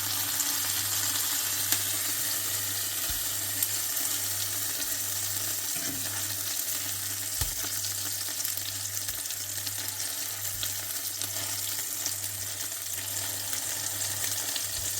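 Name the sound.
minced meat kebabs frying in a pan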